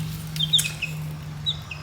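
Small black chicks clucking and peeping in a backyard coop, several brief high chirps scattered over a steady low hum, fairly close, with no voices.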